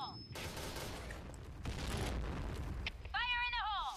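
Rapid gunfire bursts from the Point Blank first-person shooter during a competitive esports final, dense and loud under an excited commentator's voice, ending with a short chiming in-game alert.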